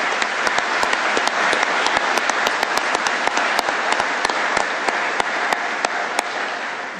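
An audience at a judge's retirement ceremony applauds to welcome guests, dense sustained clapping from many hands filling the room evenly for several seconds.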